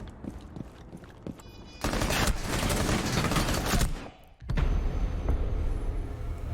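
Gunfire bursts through a wall in a competitive video game match: dense rapid shots in two sustained volleys with a short gap between them, after scattered quieter clicks and steps.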